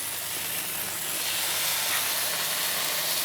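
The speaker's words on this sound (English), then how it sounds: "I've got about 6 or 7 slices of applewood bacon here, so we'll get that up on the griddle" Six or seven slices of applewood bacon sizzle on a hot griddle, giving a loud, steady hiss that runs unbroken and alone throughout.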